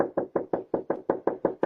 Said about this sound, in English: knock on Morris's door.